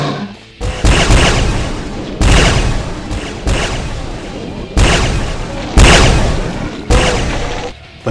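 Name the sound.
railgun zombie firing in the video game DooM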